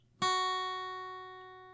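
A single guitar note, fretted at the second fret of the high E string, is plucked cleanly and left to ring, fading slowly and steadily in a quiet room with no talking.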